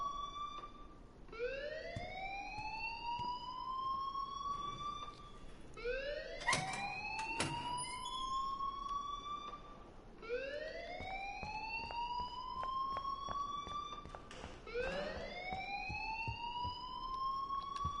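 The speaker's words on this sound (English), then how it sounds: "please turn off that alarm since that's your job." A school alarm in the Life is Strange video game wails in a repeating rising siren tone, sweeping upward roughly every five seconds, steady and continuous, with faint clicks and thumps underneath.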